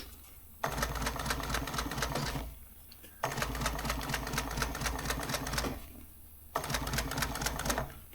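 A sewing machine stitches upholstery for a 1938 International pickup seat, running in three rapid clattering bursts of about two seconds each, with brief near-silent pauses between them.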